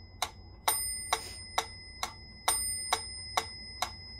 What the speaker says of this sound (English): I like that tone on the bell